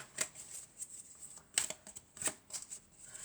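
Tarot cards shuffled by hand, a series of soft papery riffles and flicks in irregular bursts, close and quiet with no voice.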